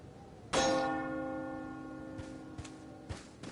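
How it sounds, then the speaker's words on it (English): A church bell is shot in Resident Evil 4 (2005) and gives one sharp metallic clang that rings out and slowly decays, followed by a few soft thuds and footsteps. "Let me go ahead and shoot the bell and see if any enemies come running."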